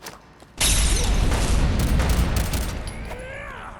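Gunfire in Fallout 4 bursts out as a loud, sustained rattle of rapid shots with booming low rumble, then tails off into mechanical clicks and a faint whistling sweep near the end.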